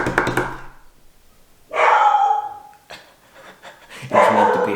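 A pet dog named Nala barks in sharp, loud bursts at close range, with two clear clusters of barking and a quieter stretch between them, and no talking over it.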